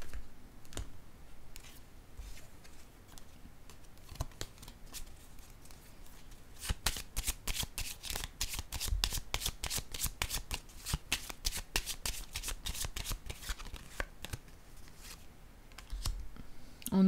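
Tarot cards are shuffled and cut by hand, quiet and close. Brisk riffle bursts and rapid clicks come in a dense run in the middle, with scattered single taps before and after.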